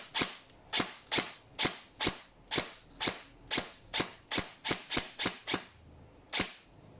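A G&G Cobalt Kinetics BAMF Recon airsoft electric rifle fires semi-auto: about fourteen sharp, loud shots, close by, in an irregular series with short gaps and a longer pause before the last one, with no voices.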